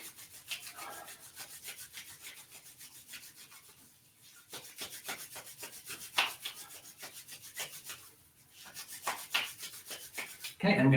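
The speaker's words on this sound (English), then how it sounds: "let's rub our hands together and get them nice and warm" Two hands rub briskly together to warm up, making close, dry swishing strokes in steady rhythmic bursts with a brief pause partway through.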